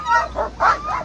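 Sled dogs at the start of the Copper Basin 300 race in Alaska bark in four quick, loud, close bursts, sharp yips following one another in a tight rhythm.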